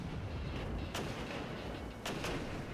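Mortar artillery fire in the Regiments video game: a few faint, distant booms over steady low battlefield rumble, the strikes spaced apart with no talk.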